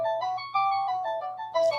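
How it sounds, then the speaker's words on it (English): A distant speaker plays a ringing tone, a sustained melodic chime with a few stepped pitch changes, alone and fairly loud. "The far speaker's ringing now."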